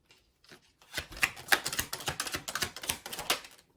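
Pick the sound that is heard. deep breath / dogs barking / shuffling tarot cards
shuffling tarot cards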